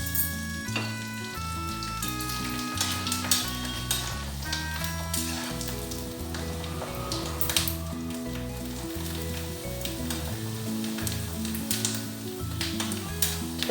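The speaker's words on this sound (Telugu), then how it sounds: "ఇప్పుడు ఫ్రై చేసి చూపిస్తాను. చూడండి ఆయిల్ పెట్టి ఆయిల్ హీట్ అయిపోయిందండి." Kaarasu vadiyam frying in hot oil, a dense, close and continuous sizzle with light stirring clatter heard against music in the background.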